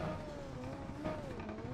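Formula Super Series race car engines rev in iRacing on the Chicago Street Course, a steady mid-pitched drone that rises and falls with a couple of revving swells, heard alone.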